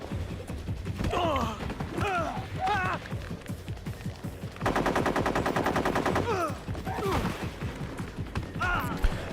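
Rapid automatic AK-variant rifle fire in the Metal Gear Solid 3 video game, a sustained loud burst of close shots in the middle, with scattered game sound effects and a voice talking around it.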